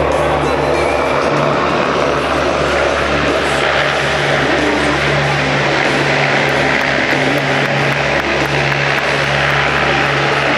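A demonstration aircraft flies at the 2004 Gary, Indiana air show, its engine droning loud and steady for the whole span without break, alone and unvoiced.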